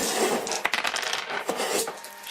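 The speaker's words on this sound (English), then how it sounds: "Roll fire. How many dice?" Dice for a tabletop role-playing game tumbling and rattling on a hard surface, a brief clattering roll with a few sharp knocks, close and fairly quiet.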